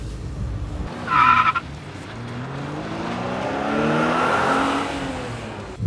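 A cheap manual car pulls away with a brief tyre squeal. The engine then revs up and holds a steady, rising drone, close and loud, with no voices.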